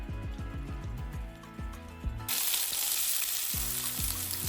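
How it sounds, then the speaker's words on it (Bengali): Onions fry in mustard oil in a hot pan with a loud, dense, steady sizzle that swells partway through, with no voices over it. "তো পেঁয়াজটা ভাজা হতে থাকুক"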